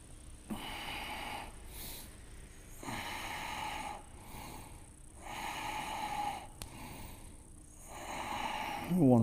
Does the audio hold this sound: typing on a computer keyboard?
no